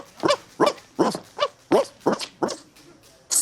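A fox terrier barks in a rapid series of about nine sharp, yappy barks at an even rhythm, close and loud, ending with a higher squeak.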